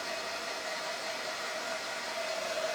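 A dryer blowing steadily to dry paint, a smooth continuous hiss of rushing air with a faint whine, close and even throughout.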